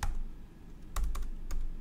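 Numbers are entered on a computer keyboard in a few distinct, close keystrokes: an opening tap, then a cluster of sharp clicks near the middle and one more near the end, with quiet pauses between.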